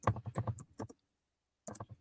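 Someone types on a computer keyboard in two quick bursts of soft, close clicks with a short silence between them.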